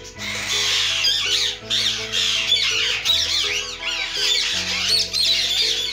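Birds on a home farm with parrots, peacocks and ostriches squawk loudly and repeatedly, harsh overlapping calls and chirps close by, with no talking.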